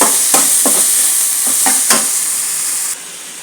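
Cut potatoes fry with chili leaves in a pan, a loud, close sizzle with several scraping stirs, before the hiss abruptly drops much quieter near the end; nobody speaks.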